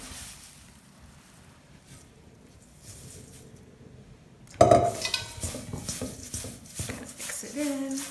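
Dried lavender being mixed into a dried herb tea blend: a quiet stretch, then sudden close clinking and scraping of stirring in a container that continues busily to the end.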